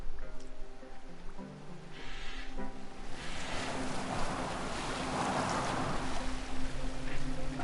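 A sailing boat from Assassin's Creed Valhalla moves across open water, with a continuous wash of waves and wind that swells and grows louder and fuller, carrying no talk.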